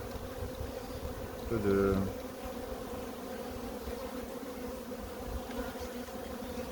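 Honeybees buzzing in a requeening hive whose queen has left, a steady low insect hum throughout with a brief louder swell near the start and a few quiet words spoken.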